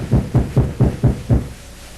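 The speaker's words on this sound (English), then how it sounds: "Go to the gate, someone knocks." Six evenly spaced dull knocks strike a gate in a radio play of Julius Caesar, close and resonant with a deep thud, followed by quiet.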